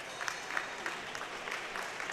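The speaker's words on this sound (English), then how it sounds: "everybody's still cheering even for the last guy coming in" Crowd at a high school boys' swim meet cheering and clapping, a steady wash of applause with scattered sharper claps and shouts, moderately distant in an echoing pool hall.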